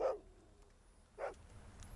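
A dog in the horror film Dog Soldiers gives two short, faint whimpering yelps about a second apart, set against a quiet background.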